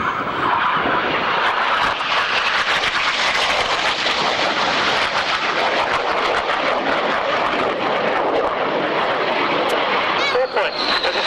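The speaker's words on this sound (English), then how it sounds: "Two aircraft are just 1 mile apart for the double rolls." Two display aircraft at the 1993 RAF Waddington airshow, flying double rolls about a mile apart, give a loud continuous broadband jet roar that fills the whole stretch, steady throughout with no gaps.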